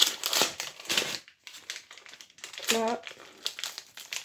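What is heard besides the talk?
unwrapping birthday presents, paper crinkling and tearing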